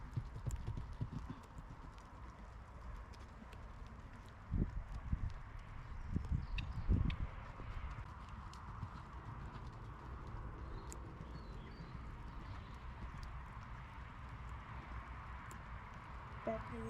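A horse cantering round an arena during a jumping session, with rhythmic clip-clop hoofbeats close by throughout, a heavier flurry of hoof thuds midway, and some faint background noise.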